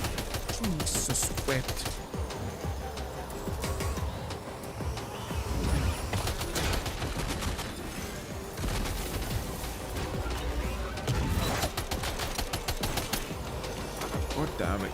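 Rapid bursts of machine gun fire in a cyberpunk-style shooter video game, dense and loud throughout, with a voice talking over the gunfire.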